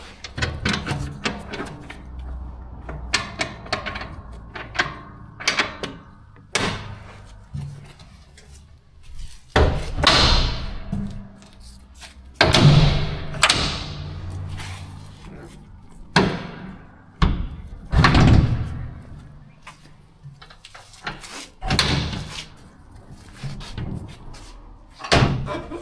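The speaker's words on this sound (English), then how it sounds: "you can have it like that as a ramp door" A toy hauler's rear ramp door, which also swings open as a barn door, being worked open and shut with a long series of loud thuds, bangs and clanks spread unevenly through the stretch, close by and with no voices.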